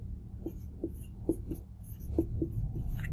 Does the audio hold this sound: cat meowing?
no